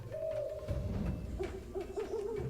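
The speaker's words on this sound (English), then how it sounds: "Oh no, not another evil bird." Evilized Screecher, an evil bird enemy in Skylanders SWAP Force, lets out a series of hooting, wavering screech calls over a low game background rumble, fairly loud and close.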